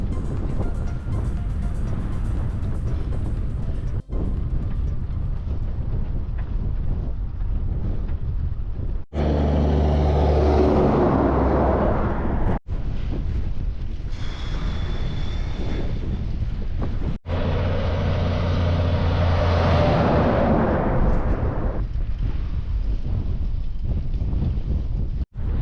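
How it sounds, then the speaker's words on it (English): Heavy wind buffets the microphone in a relentless roar from a 30 to 40 mph headwind crossing the Australian Outback, with brief sharp cuts and gusty swells throughout and no voices. "A 30 to 40 mile an hour headwind right on the nose."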